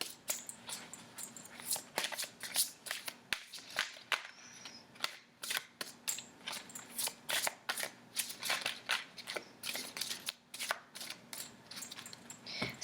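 Tarot cards shuffled by hand at close range, a long run of crisp riffling and slapping bursts in an uneven rhythm with short pauses between them, and no talking.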